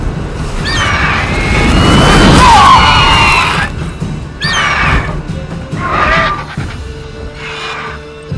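A horse neighing in several loud, close whinnies with gaps between them, mixed with some crashing and thumping noise early on.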